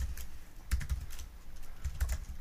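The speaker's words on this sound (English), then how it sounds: "So if I type" Quick bursts of keystrokes on a computer keyboard as a chat message is typed, close-up clicks in short uneven clusters with a soft thump of heavier keys, no voices.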